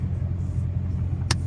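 Tuned 5.7 Hemi car sliding through a corner, a steady low engine rumble heard from inside the cabin with a brief sharp hiss near the end.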